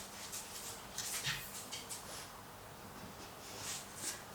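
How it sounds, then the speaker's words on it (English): Dogs playing indoors, letting out faint, scattered whimpers and yips in short bursts over a quiet background. "Dogs! Hey! They're starting to play now."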